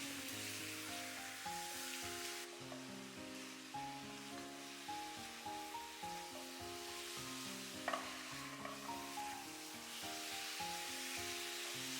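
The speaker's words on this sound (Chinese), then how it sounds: "我们就把排骨倒进来，开小火继续慢慢的翻炒，把排骨炒至上色。" Pork ribs for sweet and sour ribs are turned over low heat in deep red caramelized sugar in a wok, giving a continuous soft sizzle with scraping stirs, under steady tonal background music.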